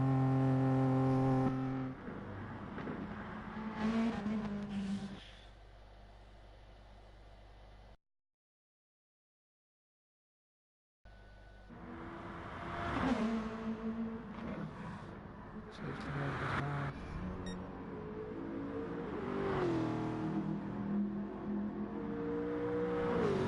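A GT3 race car in Gran Turismo, engine droning and revving with shifting pitch as it slows into the pits, a steady mechanical whine broken by a few seconds of complete silence before the engine returns.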